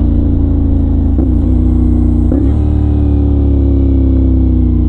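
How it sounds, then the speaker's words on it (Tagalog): A 450NK motorcycle engine blips twice in quick succession as it rev-matches on a downshift, the loud, close rumble rising sharply each time and then settling back into a steady drone. "Diba naghahanap kayo ng rev match sa downshift?"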